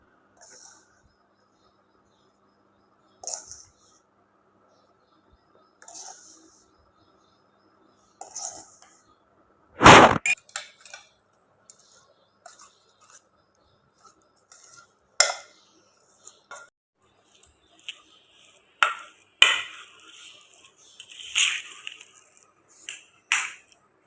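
A spoon clinks and scrapes against a pan in scattered, irregular strokes while fried flour is stirred into thick jaggery syrup. The pan is otherwise quiet, with one louder knock partway through.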